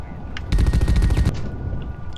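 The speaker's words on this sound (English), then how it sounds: "I'm shooting at something." Burst of rapid automatic gunfire in the sci-fi squad shooter The Red Solstice, a dense volley lasting under a second, loud and close, with faint scattered shots before and after.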